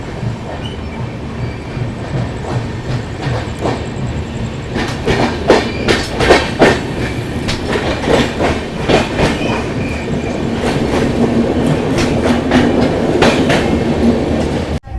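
Lucknow Mail train running on the rails, a steady rumble of the carriage with clickety-clack wheel beats and metallic rattles, close and continuous, growing slightly louder toward the end.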